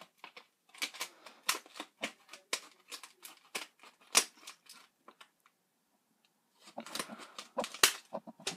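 Scissors cutting through stiff blister plastic packaging for a wireless doorbell, a close series of sharp irregular snips and crackles in bursts, pausing briefly before resuming.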